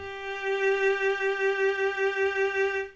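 A single sustained bowed violin G note, third finger on the third string in first position, holds steadily for about three seconds, clear and close, with slight bow pulsing before it fades.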